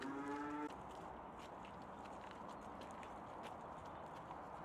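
Grazing cattle on a sunny farm pasture give a loud, close moo at the start, a single drawn-out tonal call, followed by steady outdoor ambience with no further calls.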